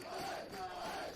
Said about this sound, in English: Both crowds are really getting into it and getting them behind their sides